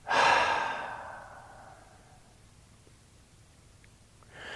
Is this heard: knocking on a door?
no